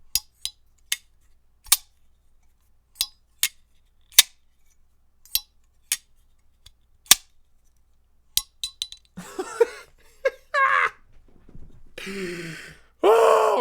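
Pocket knife blade repeatedly flicked open and snapped shut, a run of sharp, crisp metallic clicks at uneven intervals, close and loud, followed by a voice gasping and groaning.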